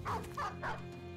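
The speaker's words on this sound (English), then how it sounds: "That dog will probably catch him." Dog barking in the Battle Brothers video game: three short bow-wow barks in a regular rhythm over a steady low hum, fairly close and moderately loud.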